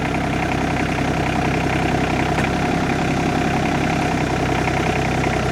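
A gas-powered auger held at low idle while it bores pier holes for an off-grid cabin foundation, a steady, continuous mid-low engine drone that runs alone with no letup.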